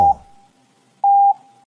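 Two steady, loud electronic Morse code tones sound alone in quiet: a brief beep at the start and then a longer dash-length tone, each fading into a soft ringing tail.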